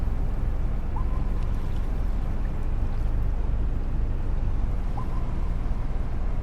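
Boat engine idling in the Maldives map of the fishing game Fishing Planet, a steady low rumble with water sloshing and gurgling, constant and fairly loud throughout.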